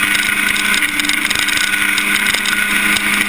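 Historic Formula Ford race cars at Thruxton circuit, a Jomo among them, with a loud sustained buzzing engine note at full throttle, steady and close with a faint rattle throughout.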